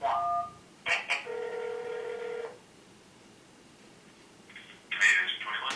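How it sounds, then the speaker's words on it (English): Several quick telephone keypad tones sound in bursts, followed by a steady tone and a short electronic phone signal near the end. The sounds are clear and close, with no talking over them. "please hang up and dial 1"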